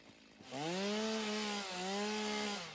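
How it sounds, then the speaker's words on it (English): A chainsaw in the game Satisfactory revs up and runs, a loud buzzing engine drone with a brief dip in pitch midway before it winds on, alone without talk. "See if I want, I can change over to my chainsaw."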